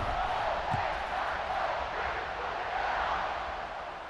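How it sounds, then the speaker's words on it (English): A stadium crowd in EA Sports College Football 26 roars in a steady, dense wash of cheering before a kickoff, sustained and fairly loud without clear breaks. "this crowd now ready to get behind them."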